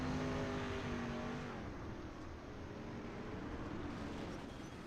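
Race cars roaring past in the iRacing sim during a dirt street stock race, a loud steady engine drone with the pitch sliding down as they go by, continuous and close.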